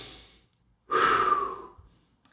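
A single strong breath, heard close up as a sharp inhale or exhale lasting about half a second, after a quieter stretch and before silence.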